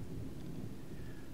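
Thunderstorm in a video game, a steady low rumble of thunder with rain hiss underneath, continuous and fairly loud with no talking.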